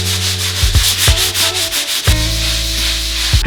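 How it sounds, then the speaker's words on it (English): Sandpaper blocks scrub back and forth over painted shelving in a home, a loud, close, steady rasping with rhythmic strokes and a few knocks of the block. "So I'm just gonna make sure that these are all sanded down."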